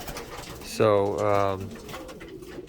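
Racing pigeons coo in a small 6x8 loft, one clear rolling coo rising and falling at close range, with a brief spoken word and faint loft background around it.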